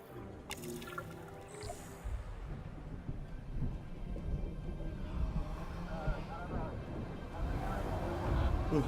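Thunderstorm in the Jurassic World Evolution 3 video game: a low, continuous rumble of thunder with steady rain noise builds over the clip, while a voice talks in the foreground.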